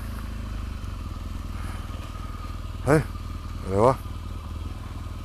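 Motorcycle engine idling and rumbling steadily on a Gold Coast street, with two brief revving surges; someone speaks briefly over the engine.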